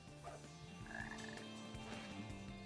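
A frog croaks in the video game Sonic Heroes, a clear, repeated guttural call set over steady in-game background music.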